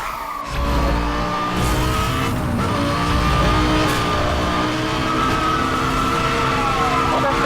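A Lamborghini Gallardo engine in the racing game Need for Speed Hot Pursuit Remastered drones loudly and steadily at high revs, its sustained whine shifting slightly in pitch with faint tire noise underneath.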